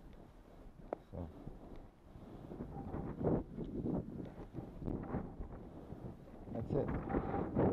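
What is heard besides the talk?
wind blowing outdoors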